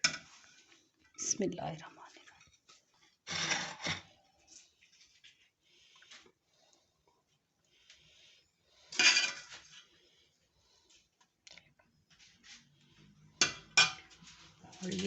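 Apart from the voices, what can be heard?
plating mandi, dishes and cutlery clinking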